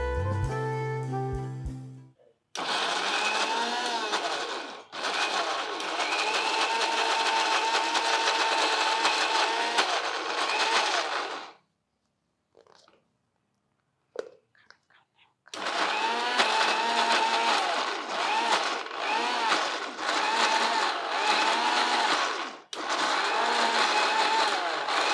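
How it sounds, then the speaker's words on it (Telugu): A kitchen mixer grinder whirs loudly while grinding cooled cooked vegetable pieces for soup, running in long steady bursts with a short pause of clicks and handling in the middle before starting again. "ముక్కలు చల్లారిపోయినాయి, మిక్సీలోకి వేసేది."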